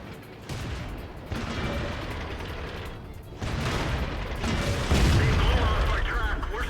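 Tank cannon fire in World of Tanks from a T26E4 Super Pershing medium tank under attack from heavy tanks: loud, sustained booming and rumbling battle noise that grows heavier toward the end, with a voice talking over it.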